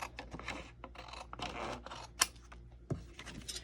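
Scissors snipping a small piece of material for a craft project, a run of close, quiet rustling cuts with a few sharp clicks, heard alone without talking.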